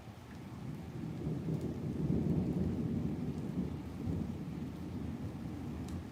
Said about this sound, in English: Let's get that thunder in there.